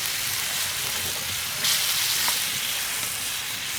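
Wood ear mushrooms (jamur kuping) sizzle steadily in a hot pan outdoors, a dense, even frying hiss with a brief louder surge midway as they are stirred.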